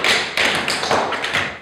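Tap shoes from a youth tap ensemble rattle out quick, rhythmic strikes in bursts, loud and close with a little room echo and no talking.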